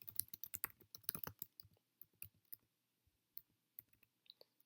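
Keys clatter on a computer keyboard as a journal title is typed: a fast burst of close clicks, then sparser, slower taps with pauses, no voices.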